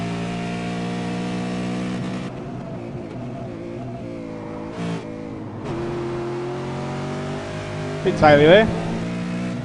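V8 Supercar engine in a racing sim at Watkins Glen, holding a steady droning rev with gear changes and a brief rising rev spike near the end, loud and continuous under a short spoken remark.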